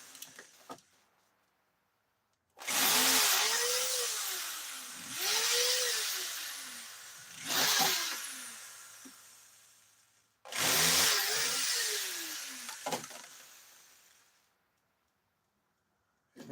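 A power drill backs screws out of a CRT set being dismantled for recycling, whining in three separate loud bursts with rising and falling pitch sweeps, broken by short pauses and a few faint clicks.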